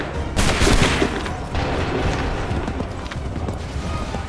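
Musket volleys go off in Assassin's Creed III as dense, crackling bursts of gunfire. A sharp loud onset fades into a sustained rumbling roar of shots and battle noise, with no voices over it.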